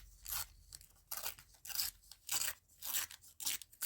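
Paper torn by hand for a craft project, a series of about eight rough ripping bursts in an irregular rhythm, close and fairly quiet, with no voices.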